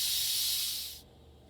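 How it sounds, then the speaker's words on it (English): Steam hisses loudly and steadily from an Instant Pot pressure cooker's release valve, then cuts off abruptly, leaving a quiet room. "let the steam release, and you want to be careful because the steam is hot"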